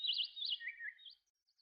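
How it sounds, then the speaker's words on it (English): Birdsong in a quiet room with windows opened: a few bright, high chirping trills from small birds, clear and fairly close at first, then thinning out to faint, scattered tweets. "The room was filled with the sounds of birds singing."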